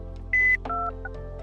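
A telephone chirps with an incoming call, a short sequence of distinct electronic tones over a steady low hum, fairly clear and close with no talk.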